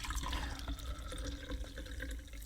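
A drink is poured from a bottle, a steady close gurgling splash of liquid with small bubbling drips running throughout, quiet and alone.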